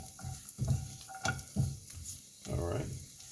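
Food cooking in sesame oil in a pan sizzles softly while being stirred, with intermittent scraping and shuffling bursts over a low crackle, close by and fairly quiet.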